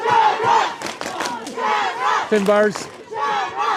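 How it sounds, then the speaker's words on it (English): A loud, close crowd at an All-Ireland Senior Club Championship hurling semi-final roars and chants in support of Loughgiel Shamrocks against St Finbarrs, in rising and falling waves, as a commentator speaks briefly over it. "Crowd getting behind him here as they try to urge them to keep the pressure on"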